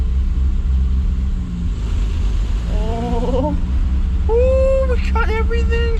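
A Triumph GT6 engine rumbles steadily at idle, heard close, while voices talk over it. Short squeaky pitched sounds come through in the second half.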